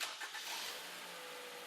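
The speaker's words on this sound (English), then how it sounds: "Start the engine" A car engine starting in a service shop with a ventilation pipe fitted to the tailpipe: a brief cranking burst, then the engine catching and settling into a steady, fairly quiet idle hum.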